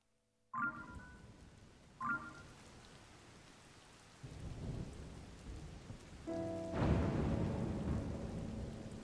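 Steady rain and thunder during a storm in The Legend of Zelda: Tears of the Kingdom. Two crisp thunder cracks come early, then the rainfall swells and deepens and heavier rumbling rolls in near the end. No one speaks.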